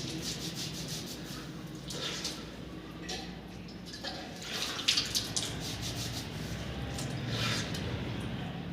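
Water runs from a tap and splashes steadily as the face is washed three times during wudu ablution, with louder splashes in the middle and a voice talking over it.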